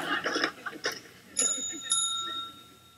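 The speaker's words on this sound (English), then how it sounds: "he rings the bell" A bell rings twice in quick succession, bright sustained metallic tones that linger and fade, following a stretch of faint chatter-like sounds and clicks; fairly close and moderately loud.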